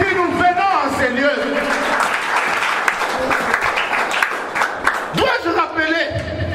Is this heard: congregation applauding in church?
yes